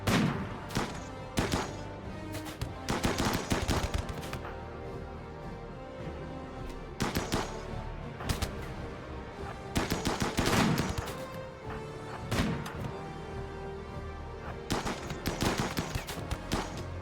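Gunfire from colonists shooting in the RimWorld video game, with repeated sharp bursts and volleys spread across the stretch, some dense and loud, with steady background game noise between them.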